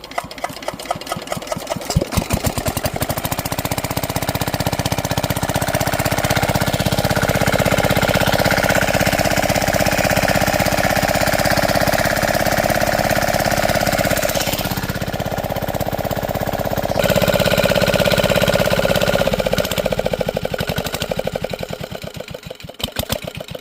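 A shallow-machine diesel irrigation pump engine watering a garlic field: after a few sputtering chugs it settles into a loud, steady, close rattling drone that runs unbroken for about twenty seconds, then winds down at the end.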